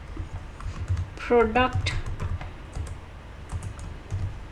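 Keys clatter on a computer keyboard as a range name is typed into an Excel spreadsheet, a few short bursts of tapping under a man's spoken instructions.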